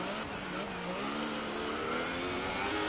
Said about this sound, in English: all the way down in first gear and really revving the car out